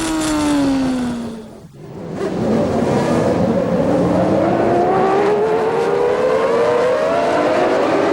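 Formula 1 cars of the 1993 season pull away from the starting grid, a dense, loud roar of high-revving engines whose pitches climb steadily together, one nearby car briefly dropping out before the whole field surges on without talk.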